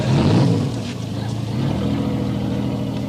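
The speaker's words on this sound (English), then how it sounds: "Mr. Tinker, Bell, start your engine." A navy boat engine starts up with a rough low rumble that settles into a steady drone, loud and close, with wind-like noise across the top.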